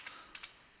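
A few soft keystrokes on a computer keyboard: three quiet, crisp clicks spaced apart in a short, otherwise hushed moment, with no talking.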